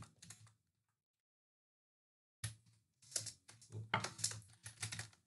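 Fingers tapping on a computer keyboard at close range, a brief burst of keystrokes, then a pause of about two seconds, then quicker clusters of clicks with an occasional heavier key press.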